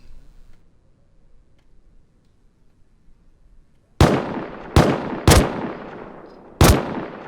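Four sharp gunshots ring out in the game Rust after a near-silent stretch, loud and close, spaced unevenly with the last one coming after a short gap.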